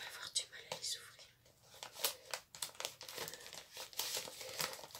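Small vintage pouches being handled and opened give off soft crinkling and rustling in irregular bursts, close and quiet, with faint whispery sounds mixed in.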